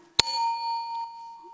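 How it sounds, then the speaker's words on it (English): One small high-pitched bell is struck once, a sharp bright ding that rings on as a clear sustained tone and slowly fades, close and alone. "A higher bell, right?"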